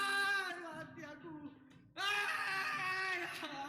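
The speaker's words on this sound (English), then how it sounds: "And he's screaming." A man screaming in a frightening encounter, a loud wavering cry that dips and trails off, then bursts out again strained and high, sustained to the end.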